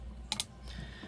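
Jewelry pliers clamping down on a wire loop, two quick faint metallic clicks close together against a quiet room background, with no talking.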